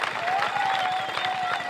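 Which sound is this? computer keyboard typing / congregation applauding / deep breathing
congregation applauding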